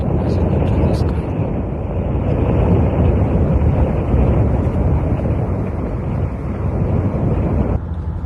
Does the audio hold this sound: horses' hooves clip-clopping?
no